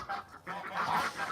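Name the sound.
geese honking among chickens and ducks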